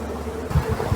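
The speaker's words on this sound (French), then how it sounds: "les abeilles commencent à vouloir retourner dans la ruche" Honeybees buzzing around an open hive as the super is handled, a low, steady drone close by with a few louder swells, and no voices.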